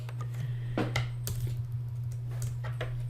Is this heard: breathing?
no